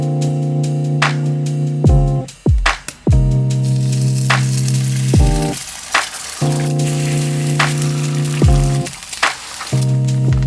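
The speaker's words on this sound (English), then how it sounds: "I'll just add some fried eggs to make it like the usual Filipino breakfast meal called tapsilog." Eggs frying in a pan for a Filipino tapsilog breakfast, a loud continuous sizzle and crackle running throughout, close by, with a steady tone sounding intermittently in the background.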